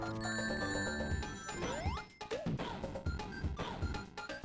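Stream hype train notification alerts ring out in a rapid burst of bright chimes, bells and sweeping electronic tones layered over one another, moderately loud, with no talking.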